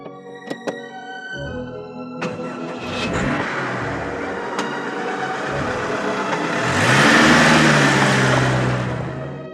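A car engine hums steadily while driving, rising to a louder rev near the end, with a few short sharp clicks early on and no voices over it.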